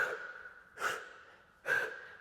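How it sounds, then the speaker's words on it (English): Two sharp, forceful breaths pushed out through the mouth during a yoga flow, close up and spaced under a second apart, with quiet between them. "Exhale through the mouth"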